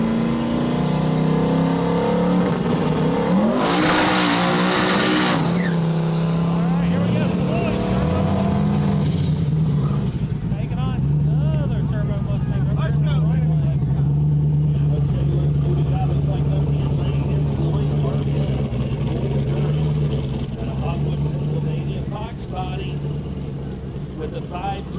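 Drag racing cars launch at a no-prep night, one with a 5.3 LSX turbo engine. A loud, sustained engine roar rises and falls with a sharp burst of noise early on, and an announcer speaks throughout.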